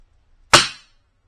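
A single sharp report from a custom rimfire bench rest rifle, a short crisp crack with a quick decay. No voices, just quiet before and after.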